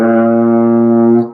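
Trombone sustaining a low B flat, one steady, loud, brassy note held for just over a second before it tapers off.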